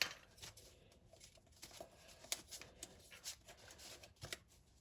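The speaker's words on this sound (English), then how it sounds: "now I'm going to take that same edge and fold it to the edge that we just created" Paper being folded edge to edge for a paper plane, soft close rustles and crisp creasing swipes in short irregular bursts, quiet and alone.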